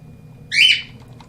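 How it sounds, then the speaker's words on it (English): A single loud, nasal bird squawk rings out close by for about a third of a second over a low steady hum, followed by quiet. "damn bird"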